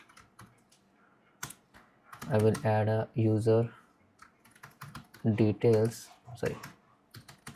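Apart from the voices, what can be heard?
typing on a computer keyboard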